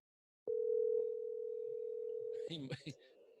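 A phone dial tone plays as a steady, faint, continuous hum for about two seconds while someone places a call, then it cuts off and a voice talks briefly.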